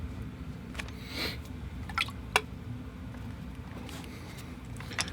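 Watercolor paint splashed onto paper: a few soft, brief wet pats and flicks scattered over a quiet, steady background hiss, close and faint.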